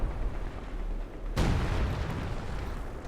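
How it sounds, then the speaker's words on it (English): A howitzer in Company of Heroes 2 fires a single deep, booming shot midway through, over a steady rumble of distant battle noise. "that is a howitzer right here thumping away"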